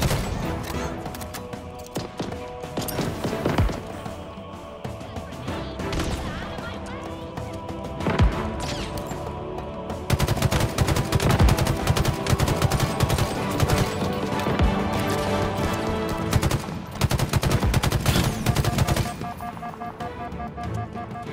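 Rapid bursts of gunfire from Halo Infinite on Legendary difficulty, dense and continuous with sharp repeated shots over a busy game soundscape, while a player talks throughout.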